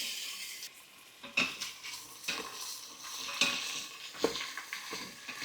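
Cut vegetables stirred and fried with onions in a pan, a steady sizzle under scraping and clinking of a utensil against the pan, with several sharper knocks along the way.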